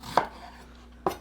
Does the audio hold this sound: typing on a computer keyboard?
no